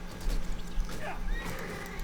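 Horse in the video game Sacred 2 letting out a whinny, a wavering neigh rising and falling over a few hooves clopping, under low game ambience.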